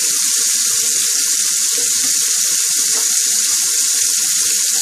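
Tap water runs steadily over a stainless steel razor being rinsed at a sink, a continuous bright hiss with small splashing flickers throughout, close and fairly loud, with no talking.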